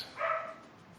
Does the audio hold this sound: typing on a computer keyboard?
no